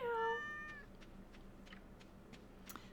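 A short cartoonish meow from a pet cat in the Stardew Valley farming game, followed by quiet ticking game ambience and light soft clicks.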